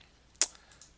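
Keys tapped on a computer keyboard, one sharp clack followed by a few lighter scattered clicks, close and quiet, with no talk.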